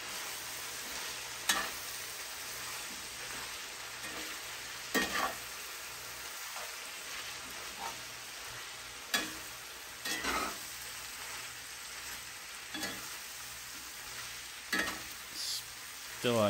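Beef and chorizo frying in a pan over medium heat while being stirred, with a steady close sizzle broken by repeated sharp scrapes and clatters of the utensil against the pan.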